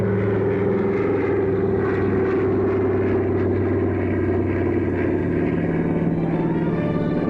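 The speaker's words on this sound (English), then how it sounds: "we watched Sally's plane taxi out from the terminal at International Airport" An airliner taxis out from the terminal at an international airport, a steady engine drone and whine holding at an even level throughout, continuous and moderately near, with no voices.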